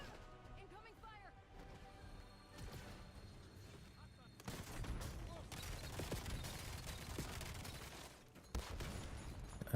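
Gunfire in Call of Duty: Black Ops 7, bursts of shots and crashing impacts growing heavier midway through, mixed with game voices and background noise.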